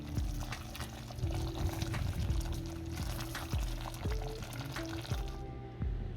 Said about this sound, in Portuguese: eu vou desmanchar a goiabada cascão com um pouco de água até formar uma